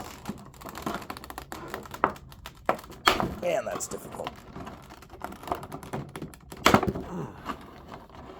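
Plastic packaging snaps on a boxed figure being pried open, giving sharp close clicks and crinkly plastic crackles scattered irregularly, with two louder snaps among them, while someone talks quietly between them.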